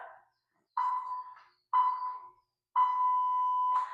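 A workout timer beeps close and clear: three short electronic tones in steady succession, then a longer sustained beep, with nothing else underneath.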